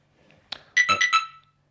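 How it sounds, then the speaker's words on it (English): An Aosu video doorbell motion alert chimes on a phone: a short soft tap followed by a quick run of four bright, bell-like ringtone tones, clear and close with no voices. "I get that notification"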